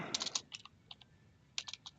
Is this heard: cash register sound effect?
no